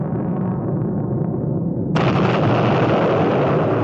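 An aircraft-dropped bomb detonates in a deep, sustained roar, a broad rumbling blast that suddenly brightens and swells midway and keeps booming loudly to the end.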